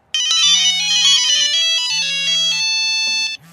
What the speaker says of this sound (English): for each of you who has a cell phone, your phone rings right at the same time